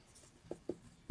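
Pen writing a formula during a class 11 binomial theorem maths lesson: three quiet, short scratchy strokes spaced apart on a near-silent background.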